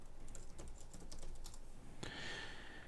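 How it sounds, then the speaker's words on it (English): Typing on a computer keyboard, a quick run of light close key clicks followed by a single louder tap, then a faint high tone. "I can get my keyboard out and type on my keyboard"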